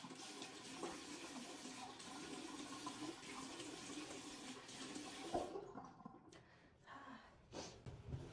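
Tap water runs into a sink while face cleanser is rinsed off, a quiet continuous splashing rush that cuts off partway through, leaving faint drips and small handling noises.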